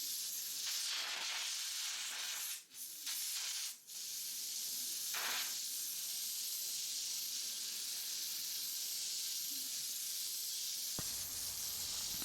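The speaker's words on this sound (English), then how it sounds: "I pick up my air gun and I'm cooling down the part with air" An air gun blasts a steady, loud hiss of compressed air over a hardened 2080 tool steel part to cool it, continuous for most of the span with a couple of brief dips before cutting off near the end.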